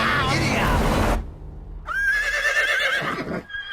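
A horse gives a loud, wavering whinny close up after a burst of noisy commotion, the neigh rising and trailing off over about a second and a half.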